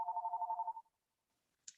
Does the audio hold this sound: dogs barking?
no